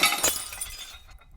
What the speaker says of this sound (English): causing some other glasses to fall out, smashing onto the counter and the ground